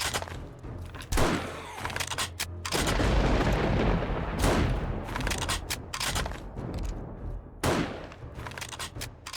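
Sniper rifle gunfire in a zombie video game: loud, booming shots land a few seconds apart, with a dense, rumbling barrage filling the gaps between them.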